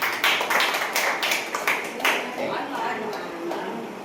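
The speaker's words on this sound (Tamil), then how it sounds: "அவருக்கு ஒரு கையை தட்டுங்க" A Tamil spiritual gathering's audience breaks into applause, a dense patter of many hands clapping at moderate loudness that thins out toward the end.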